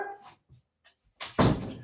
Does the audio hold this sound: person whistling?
no